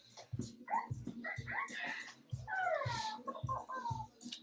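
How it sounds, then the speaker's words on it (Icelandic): Dogs outdoors whimpering and yipping in high, wavering whines, with a run of rising and falling cries midway. The sounds are moderately loud and come in short bursts, mixed with low thumps. "Það eru hundarnir. Þeir eru bara ennþá úti."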